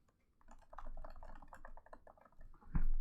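Steady bursts of typing on a computer keyboard as a sentence is entered, rapid close key clicks with short pauses and a sharper thump near the end.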